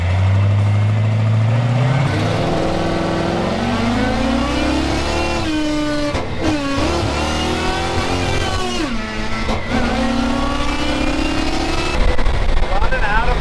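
A classic 1942 Chevy on a test drive, its engine revving up loudly and holding a continuous, shifting drone at close range for about thirteen seconds.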